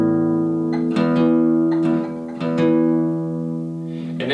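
A sustained guitar chord rings out with a few plucked notes on top, the A string's pitch sliding slightly as it's bent to check tuning, close and clear.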